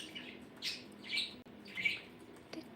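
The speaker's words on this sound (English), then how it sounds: "Your birds are so precious." Pet birds give a few faint, high chirps and squawks spaced out over a quiet indoor room with low background hum.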